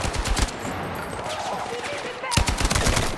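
Rapid automatic gunfire from a Battlefield 6 battle, a loud dense crackle of bursts that fills the scene, briefly thins, then resumes close and sharp.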